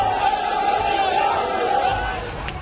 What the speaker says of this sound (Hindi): उग्र भीड़ आगजनी पर उतर आई।